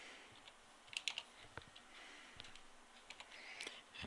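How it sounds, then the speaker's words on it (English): A password is typed on a computer keyboard as quiet, irregular keystroke clicks, a few quick bursts and single taps heard faintly and close by. "they will type in Tim"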